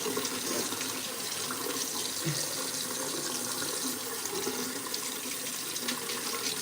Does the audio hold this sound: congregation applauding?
no